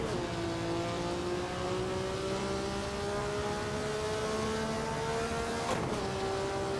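A race car in the Assetto Corsa game, from its Red Pack, drives a lap with a steady, loud engine drone whose pitch climbs gradually through the gear, with a brief shift near the end before the pitch drops and resumes.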